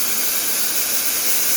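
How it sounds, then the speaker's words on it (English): An espresso machine's steam wand vents excess steam into the drip pan as a loud, steady, close hiss that stays constant throughout. "release the excess steam into the pan"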